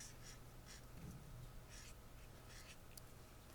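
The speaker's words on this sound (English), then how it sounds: "So I'm going to write nice." A word being written by hand, likely pen or marker on paper, heard as short faint scratchy strokes in a few separate bursts over a quiet background hum, with no talk.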